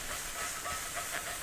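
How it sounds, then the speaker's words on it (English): Grease splatters and sizzles steadily while calves liver sautés over medium heat, a constant close hiss with no talking. "A little grease splatter."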